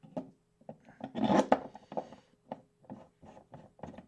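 M6 screws being driven by hand into a 3D-printed wax press, a series of short rasping, scraping turns in uneven bursts, close and fairly quiet, with one longer grinding stretch in the middle.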